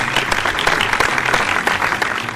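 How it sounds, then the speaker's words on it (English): Audience applause, a dense burst of many hands clapping at once, steady and moderately loud for the full couple of seconds. "Can we get a round of applause for Booger Man?"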